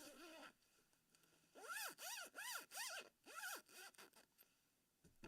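Full-length zipper on an oversized large hoodie with a Sith-style hood being drawn in a series of quick rising strokes, several short rasping pulls in a row, close and clear with no talking.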